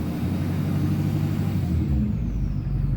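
A diesel pickup fitted with a ProFab passenger-side manifold and up pipe rumbles loudly up close, its low engine note building as the throttle is pressed, then dropping back toward idle near the end.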